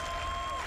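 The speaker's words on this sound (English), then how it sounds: "Of course people are cheering." Star Citizen CitizenCon audience cheering and applauding at a live presentation, a brief dense wash of crowd noise with a thin tone running through it.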